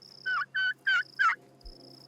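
Pastured turkeys gobble in four quick rattling bursts of even length, close and distinct, followed by a faint thump and a quiet hum of the outdoor setting.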